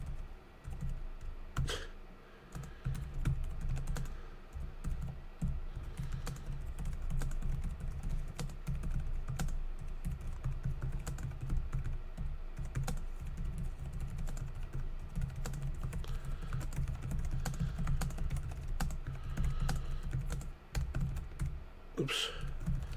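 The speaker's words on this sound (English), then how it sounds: "I'm trying to type." Continuous close typing on a computer keyboard, rapid uneven key clicks clattering steadily for the whole stretch with brief pauses.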